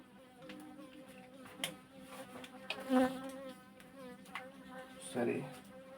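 A bee buzzes indoors in a room during a class lesson, its hum wavering steadily throughout, with a voice speaking over it and a few louder bumps.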